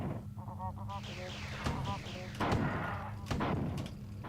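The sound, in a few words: grenade explosions in a video game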